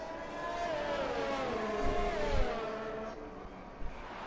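A Ferrari Formula 1 car in a racing video game during the Australian Grand Prix, its engine whining at high revs with pitch rising and falling through gear changes, steady and continuous, with a couple of low thumps.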